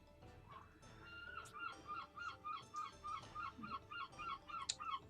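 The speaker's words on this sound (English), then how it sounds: "And that's the seagulls." Seagulls call in a steady run of repeated squawks in a Pokémon Sword game scene, bright and fairly close, ringing out over a soft background with no talking.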